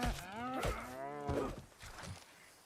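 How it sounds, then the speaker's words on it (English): A cow moos in the video game Runescape: Dragonwilds, one long drawn-out bellow followed by shorter lowing calls, fairly close and clear with no talk over it. "Hey, it's a cow."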